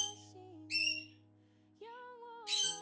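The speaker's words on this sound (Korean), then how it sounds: "우리 앵무새도 안녕이라고 얘기하죠." A pet parrot calls out several times in a quiet indoor room, giving short, bright, whistled bursts with pauses between them. The calls come through clearly and close, with no talking over them.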